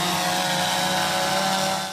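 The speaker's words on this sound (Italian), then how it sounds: "In questo momento l'elicottero della Guardia Costiera sta sorvolando lo specchio acqueo" A Coast Guard helicopter flying over open sea about ten miles off the Sicilian coast, its engine and rotor making a loud, steady, continuous drone with no breaks.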